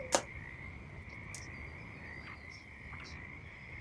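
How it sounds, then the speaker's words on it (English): Small frogs croak in an odd, uneven rhythmic beat, a steady chorus with a few sharper calls standing out, close and alone with no talk. "You hear the croaking of the little frogs in this, I want to say, like, odd rhythmic beat."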